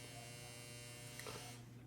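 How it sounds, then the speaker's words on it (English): A clothes dryer's electric buzzer going off indoors, a steady harmonic drone held for nearly two seconds, faint and close with no speech. "sorry about my dryer going off"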